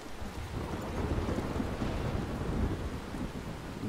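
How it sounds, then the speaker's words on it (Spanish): Rain and rolling thunder from the video game Life Is Strange, a dense wash of falling rain under deep continuous rumbling, loud and steady throughout, no voices. "Que llueve aquí en el juego."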